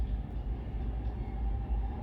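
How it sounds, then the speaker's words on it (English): A train rolls through Jackson Heights–Roosevelt Avenue station, a steady loud rumble of rail cars with low clattering wheels sustained throughout, close by, with no talk over it. "There's a train coming through."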